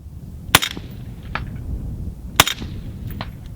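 A Ruger Mini 14 rifle fires cheap ammunition: two sharp, loud cracks about two seconds apart, each with a short ringing tail over steady outdoor background noise.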